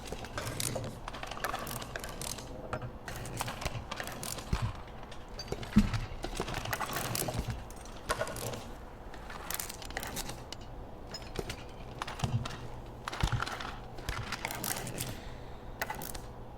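Stone knives being crafted in the Medieval Dynasty game, a busy stream of clicks, ratcheting taps and clacking tool knocks in irregular bursts, moderately loud with no voices.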